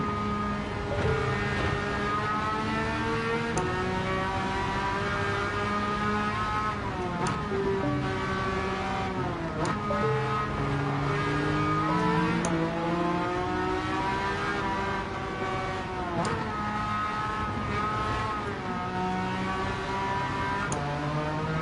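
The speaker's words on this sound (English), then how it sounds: "That's a whine of an engine." A whining car engine in a racing video game featuring an Aston Martin, with loud revs climbing and falling repeatedly through gear changes over a long continuous stretch.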